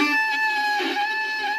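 A shrill, piercing violin squeal from a pinky accidentally touching the open D string, harsh high overtones, sustained for a moment, loud and close with no talking.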